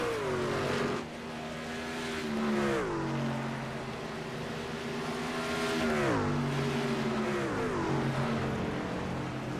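Several racing truck engines roar continuously in a sim racing league event at Rockingham, pitches sweeping up and down through gear changes as the pack runs close together, loud and steady with no voices.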